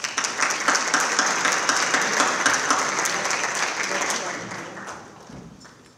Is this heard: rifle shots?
no